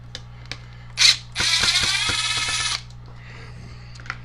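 Screws being backed out while taking apart a Harbor Freight chainsaw, with a sharp click followed by a steady ratcheting whir lasting over a second, close and fairly loud, then a few faint ticks of parts handling.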